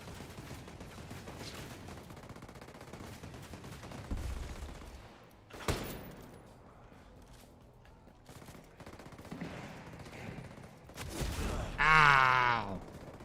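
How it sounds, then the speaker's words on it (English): Gunfire and a mortar strike in the video game Ghost Recon Breakpoint: a sharp burst of shots, then a louder blast with crackling debris near the end, over low game ambience with a faint voice. "My gun just randomly shot because it was delayed. Because I went and shot and then I got hit by a mortar."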